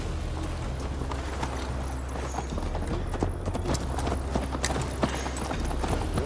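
Horse hooves clip-clopping at a steady pace in the Assassin's Creed Valhalla video game, a continuous rhythmic ride over a dense, loud bed of low rumble and ambient noise, with no voices.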